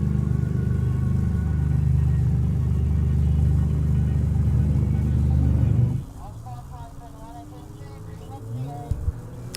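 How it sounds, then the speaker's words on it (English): Race cars roll out at the National Extreme Festival, a loud continuous engine rumble that drops away abruptly partway through, leaving quieter background noise with faint voices. "So cars rolling out to Akali for the second part of the day's proceedings now."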